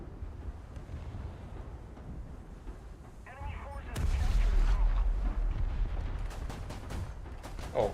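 A tank cannon fires in the War Thunder video game, one heavy, loud boom with a deep rumbling tail that lingers for several seconds.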